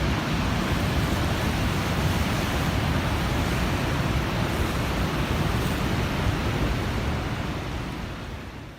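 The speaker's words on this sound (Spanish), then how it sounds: "¿han escuchado ustedes ese estruendoso río?" A roaring river rushes in a steady, dense wash of broadband noise, loud and unbroken throughout, easing slightly toward the end.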